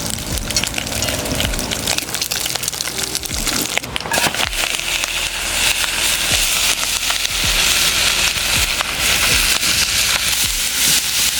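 Bacon frying in a pan outdoors by a riverside in Jamaica, a dense, continuous close sizzle and crackle that grows louder and busier over the course, with scattered popping and no talking.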